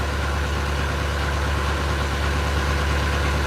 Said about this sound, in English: The boat's starting to warm up.